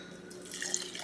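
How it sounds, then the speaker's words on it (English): Matcha poured into a glass gives a short, close liquid trickle and splash lasting about a second, with no talking. "now I'm gonna pour my matcha into a glass"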